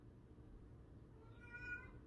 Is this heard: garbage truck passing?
no